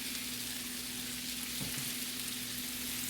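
Olive oil hitting the hot edge of a skillet, giving a steady bright sizzle and frying hiss throughout with a low hum underneath and a brief soft clatter midway.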